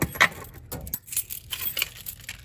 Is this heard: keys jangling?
yes